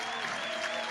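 Dense, steady applause from a stadium crowd at a college softball game in Lincoln, a standing ovation for a departing senior player, rolling on without a break.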